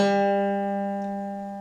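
A single plucked acoustic guitar note, fourth string at the fifth fret, rings out clearly and sustains steadily, slowly fading over a second and a half with no other sounds.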